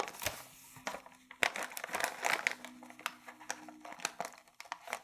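Thin plastic chip bag crinkling and crackling as it is wrapped and folded over, a steady run of close, rustling crinkles with sharper snaps throughout, no voices.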